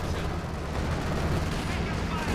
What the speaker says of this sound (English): Oh, big bundle grenade.